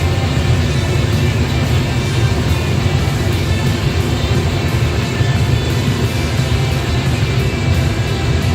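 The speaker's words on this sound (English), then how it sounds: "There's our gas burner." Residential gas furnace burner firing, a loud, steady roaring rumble of flame with a constant low hum and no breaks.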